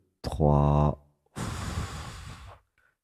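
A person takes a deep breath: a short voiced intake, a brief pause, then a long, audible, airy exhale, close and alone.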